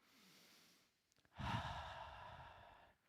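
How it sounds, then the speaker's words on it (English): A deep breath is drawn and let out together by a group, starting with a faint inhale and then swelling into a broad, soft exhale that lasts over a second. It is fairly quiet and has no talk over it. "Everyone take a breath."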